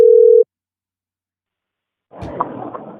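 A single steady telephone tone sounds loud and clear for under half a second as a call is placed, followed by silence and then a burst of muffled line noise.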